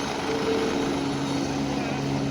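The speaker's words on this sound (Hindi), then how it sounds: "यहीं पर आकर हेलीकॉप्टर आपको उतारते हैं।" Helicopter at the Kedarnath helipad, a loud continuous rotor and engine roar filling the whole span with steady droning hum, close and unbroken.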